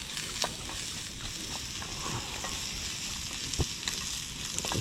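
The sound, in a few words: cooking with oil in a pan while camping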